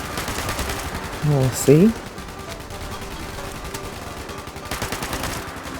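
Gunfire from a weapon in the video game Fallout 76: a steady, crackling run of rapid shots under busy game sounds, with a brief rising tonal chirp and a short spoken phrase partway through.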